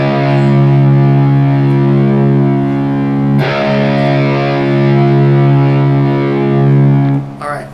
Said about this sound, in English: We're going to tune the low E down to a C sharp.